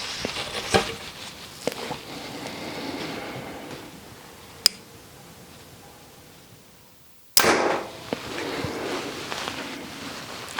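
A 2025 Hoyt RX-9 Ultra compound bow is shot, giving a few sharp, loud snaps of the string release spread across the stretch, with a quieter lull between them and no talking.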